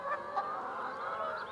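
Several geese honk together in close, nasal bursts, a short overlapping chorus of calls with no talking.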